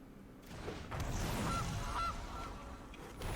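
A goose honk from a card in the MTG Arena video game, two short honks over a busy, moderately loud game soundtrack.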